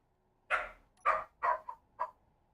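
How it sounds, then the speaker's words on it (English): Several dogs bark in a quick irregular series of about five sharp barks, moderately loud and somewhat distant, with no talking over them. "those dogs need to shut up"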